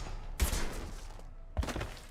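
Gunfire in Mass Effect: Legendary Edition, two heavy thumping shots about a second apart over a low, murky ambient background.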